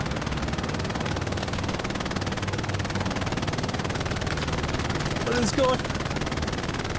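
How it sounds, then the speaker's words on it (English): A machine gun mounted on a half-track rattles in a rapid, unbroken stream during a Hell Let Loose match. Someone briefly speaks over the loud automatic fire. "There's a guy with an MG on a half track shooting"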